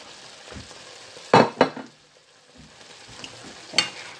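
A bell pepper mixture fries and is stirred in a pan for chicken fajita, with a steady low sizzle broken by a few sharp utensil scrapes and clinks up close.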